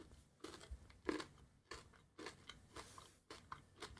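Bites and crunchy chewing of an orange-flavoured Easter chocolate, a string of close, crisp crunches in an irregular rhythm with no talking.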